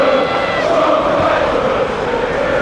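A football crowd at an Everton home match against SK Brann roars loudly and continuously, a dense, steady swell of massed voices filling the stadium with no break.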